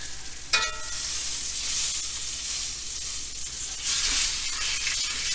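Beef chuck roll underblade steak, defrosted, sears in a hot pan with a steady, bright sizzle and hiss, a brief clatter near the start and a surge of spitting fat toward the end, with no voices.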